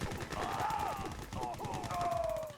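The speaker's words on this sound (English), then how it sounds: "Gatling cannon from Andy." Gatling cannon fire in the strategy game Yuri's Revenge, a dense continuous rattle of rapid shots with a rising and falling whine, mixed with other battle sounds and game effects throughout.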